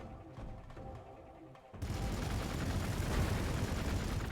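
Gunfire from units in the Warhammer 40k Gladius strategy game, a loud dense burst of shots and booms that starts abruptly partway through and keeps rumbling to the end.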